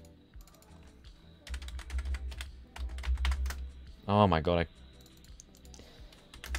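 Rapid clicking keystrokes on a computer keyboard come in bursts, close and fairly quiet, with a person briefly speaking partway through.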